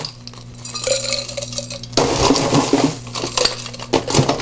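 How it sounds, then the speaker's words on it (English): Ice cubes tumble into a cocktail glass for a Cranberry Red Paloma, with clinks and then a louder rattling crunch as more ice is dropped in, close and bright, with no talk. "So let's ice up our glass"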